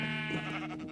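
A single short, wavering sheep bleat from Minecraft, clear and close, with no talking over it.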